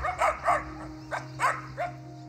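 Stray dogs bark on a run-down school ground, several sharp barks in an irregular sequence at moderate distance over a low background hum.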